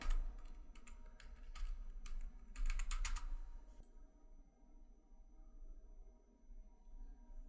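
Someone types on a computer keyboard in quick, uneven bursts of crisp clicks for about four seconds, then the keys go quiet and only a faint background hum remains.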